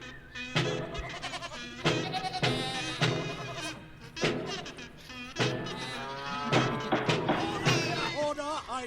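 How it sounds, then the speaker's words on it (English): Sheep bleating: a run of loud, nasal, wavering cries repeating in quick succession with short gaps, close and prominent, with no speech over them. "Where are the sheep?"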